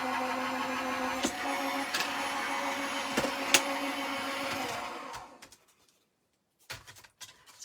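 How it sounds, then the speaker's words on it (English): A die cutting machine cuts a card panel with a steady mechanical grinding hum punctuated by clicks, then winds down to silence, followed by a few faint handling knocks. "that can go through my die cutting machine again"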